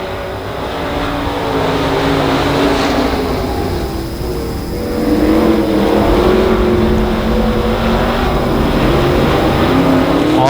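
Race cars roar around the Monarch Motor Speedway oval, a continuous engine drone that swells and fades as the field passes, rising again toward the end, with no voices over it.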